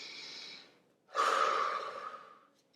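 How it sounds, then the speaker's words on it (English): A person takes a slow, deep breath, a soft airy inhale tapering off, then after a brief pause a longer, louder exhale close to the listener, with no speech. "you can just take a deep breath like this"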